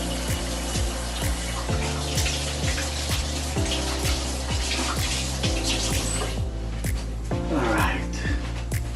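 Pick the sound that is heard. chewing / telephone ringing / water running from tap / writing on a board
water running from tap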